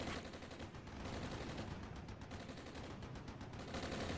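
Mortar and gunfire in the Armored Brigade war game, a dense rumbling barrage of distant blasts and rattling fire rolling on steadily without a break.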